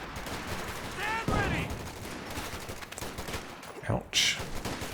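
Machine gun fire from a .50 cal in a Company of Heroes 2 battle, bursts of automatic shots mixed with explosions and battlefield noise, with a commentator talking over it.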